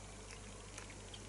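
Six Degrees North Peloton Pilsner beer poured with a steady, soft fizzing hiss and bubbling, faint and continuous with a constant low hum beneath it.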